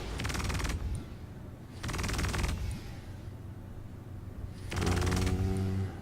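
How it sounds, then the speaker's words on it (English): Wing-mounted energy miniguns on a Super Hornet fighter in Star Citizen fire three sustained rapid bursts of buzzing, stuttering shots, separated by short pauses, loud and close with no speech. "So, new weapons on the wing mounts for the Super Hornet"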